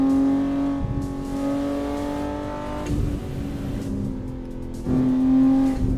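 BMW M2 engine in a racing video game, a loud continuous drone with rising and falling revs and shifting gears, accelerating hard throughout with no talk.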